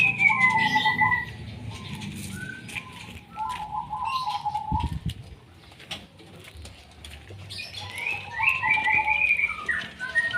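White-rumped shamas call from a cage in clear, whistled, melodious phrases, some near and loud, with pauses between and a brief low flutter or bump partway through.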